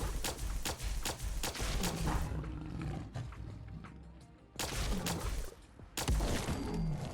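A plasma pistol firing repeatedly at a Deathclaw in a modded Fallout 4 game, loud booming energy shots in clusters amid a creature's roaring and heavy combat noise, with a brief lull in the middle.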